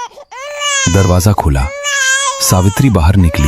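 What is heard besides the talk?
newborn baby's first cry, story sound effect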